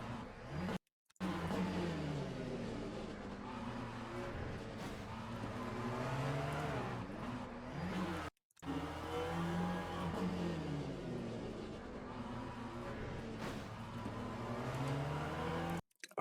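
A GT3 race car in a racing video game spins its wheels, producing a loud, sustained engine wail that rises and falls in pitch with two brief cuts to silence and no talking.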